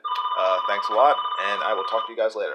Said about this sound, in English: that's the phone's going off